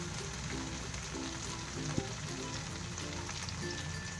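Shredded chicken is stirred into vegetables in a hot pan for a Ramzan chicken dish, giving a soft, steady sizzle with faint stirring scrapes at low volume.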